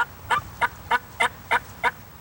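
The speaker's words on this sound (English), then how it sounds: "I like to hear turkeys." A Texas wild turkey gobbles loudly and close in a quick series of seven evenly spaced bursts, each a short warbling rattle, with no talk over it.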